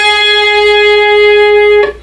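A single sustained electric guitar note played at the tenth fret rings steadily and clearly, alone, then is cut off near the end.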